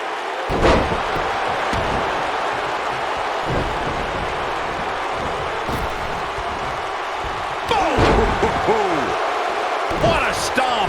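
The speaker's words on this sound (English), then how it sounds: "Belly-to-belly suplex, slammed with authority." A wrestler is slammed onto the ring mat by a belly-to-belly suplex in a Punjabi Prison match. Several heavy, booming thuds stand out over steady arena crowd noise, with commentary at times.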